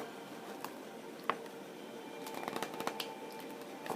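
Tarot cards being shuffled and drawn, soft papery riffles and flicks with a few sharper snaps, quiet and close with no talking.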